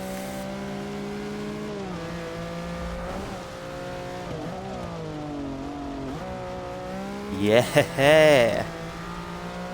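A Lamborghini race car in Forza Motorsport 6 holds a steady engine drone with rising and falling pitch as it shifts, then tires squeal sharply near the end, while someone talks over it and briefly shouts.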